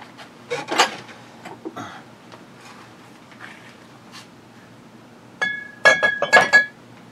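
A shot glass clinks sharply a few times, bright glassy taps close by with a ringing tone near the end, scattered between quieter handling sounds in a mostly quiet room.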